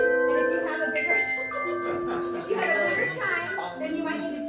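A hand chime rings in a sustained, bright tone, then is swung, snapped and muted against a shoulder. Other chimes in a family hand chime ensemble overlap in layered ringing tones throughout.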